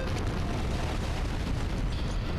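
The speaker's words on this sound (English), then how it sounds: "Explosion." Monokuma blows up in Danganronpa: Trigger Happy Havoc, a loud, dense, rumbling blast that roars without a break.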